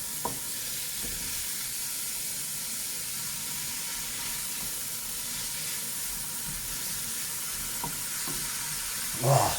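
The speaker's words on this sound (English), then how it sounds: "Just doing this to fry the spices off a bit." Cumin and other spices frying in a pan, a steady close sizzle with soft stirring clatter throughout, ending in a brief louder burst of hiss.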